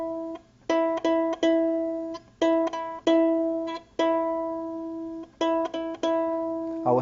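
A plucked ukulele E string, the second string, rings out in quick clusters of two or three picks separated by short pauses, each note clear and sustained, with no voice.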